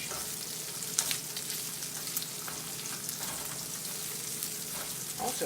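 Sausage frying in a cast iron skillet on an electric stovetop burner set to medium, a steady quiet sizzle with a few sharper pops and spits, close by and without speech.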